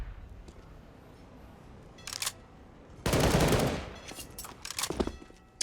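Automatic rifle fire sprayed through smoke in a Counter-Strike: Global Offensive tournament match, heard as bursts of rapid gunshots, one long sustained volley and shorter clusters, over a low background hum with no speech.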